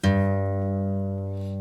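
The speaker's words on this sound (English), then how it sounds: "So it's going to go from an A to a G." A single guitar A string, just tuned down a whole tone to G, is plucked once and rings out steadily with a rich, sustained low tone that slowly fades, with no talk over it.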